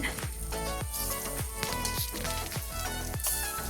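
Soya pieces fry in coconut oil in a pan, giving a loud, steady sizzle with rhythmic bursts as pieces go in and are stirred, with no talking.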